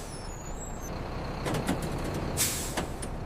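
A city bus stopping at a light gives short bursts of air-brake hiss over a low rumbling idle, the sharp releases coming close together midway through.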